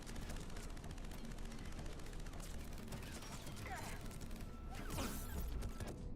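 Sustained enemy gunfire in the shooter Mass Effect 3, dense rapid bursts of automatic fire and impacts hammering continuously, with a sharper crashing blast near the end.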